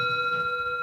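Single bell struck once and ringing out in a steady, pure sustained tone with clear overtones, close and clean with no voices.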